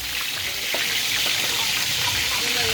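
Pieces of tilapia fry in a pan of hot oil, a loud, continuous hissing sizzle with small crackles and pops close up.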